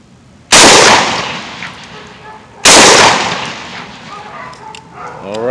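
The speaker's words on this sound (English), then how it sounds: "we went ahead, fired our 2 rounds" Two loud gunshots from Liberty Ammunition Civil Defense rounds fired at about five yards, sharp cracks roughly two seconds apart, each leaving a long ringing decay.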